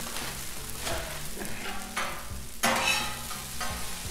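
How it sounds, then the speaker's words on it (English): Hash browns fry in oil on a Blackstone griddle with a dense, continuous sizzle and crackle. Intermittent scraping and stirring strokes come from a spatula working close by. "We're going to start off with these hash browns."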